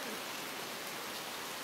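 Steady rain falls outside a house in a dense, even hiss of drops on surfaces, continuous and fairly loud, with no talking.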